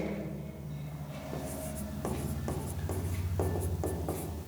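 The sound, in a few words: pen writing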